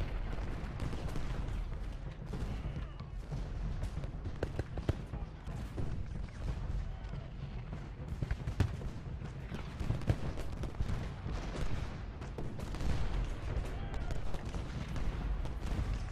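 Rolling musket volleys and artillery fire in Ultimate General: Gettysburg, a Civil War battle video game, with sharp irregular cracks and booms over a steady low battlefield rumble.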